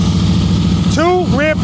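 A motorcycle engine idles with the throttle held steady during slow-speed riding practice in Pennsylvania, a loud close rumble that continues under a voice.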